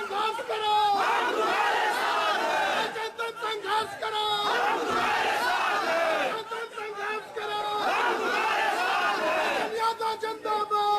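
A dense crowd chants and roars political slogans in support of Bhalchandra Yadav, loud, rhythmic and sustained, with many voices shouting in unison and brief dips between bursts.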